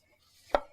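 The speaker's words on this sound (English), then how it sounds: "I will cut the green cabbage." A single sharp knife chop through green cabbage on a cutting board, one loud close thud after a quiet moment, with a faint tail afterward.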